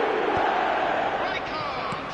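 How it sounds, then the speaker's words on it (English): A football stadium crowd in the eFootball video game roars steadily after a goal, a loud, sustained wash of massed voices with a few faint thuds, heard alone without commentary. "The crowd are reacting to that now"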